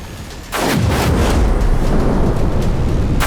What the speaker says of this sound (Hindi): ईरान के फोर्डो एटॉमिक बेस पर 12 बंकर बस्टर बमों से हमला हुआ।